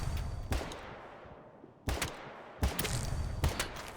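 Gunfire from an M110 DMR rifle in Battlebit Remastered, fired at range: four sharp, loud reports spaced unevenly over a few seconds, each trailing into a fading echo.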